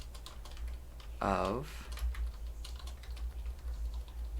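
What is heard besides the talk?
typing on a computer keyboard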